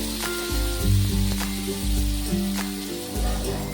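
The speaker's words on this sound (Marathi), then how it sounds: "आपण तव्यावर तेल घेतलेले आहे आणि बनवून घेतलेला मसाला आपण त्यावर ॲड करूया" Prepared masala sizzles loudly in oil on a flat tawa, a continuous close crackling hiss with steady spattering and a few stirring scrapes.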